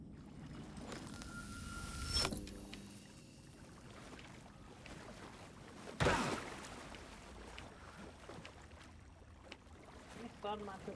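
Water sloshes faintly in a flooded basement in the video game Alan Wake 2, soft wading and splashing movements with a couple of louder thumps amid quiet, dark ambience.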